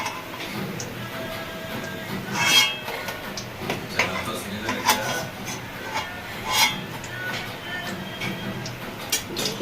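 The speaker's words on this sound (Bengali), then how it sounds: "আওয়াজ পাচ্ছেন আপনারা, থালায় নামাচ্ছি আমি।" Fried soybean pakoras set down onto a plate, giving a few light, crisp ticks and scraping clatters against faint background noise, with brief louder knocks scattered through.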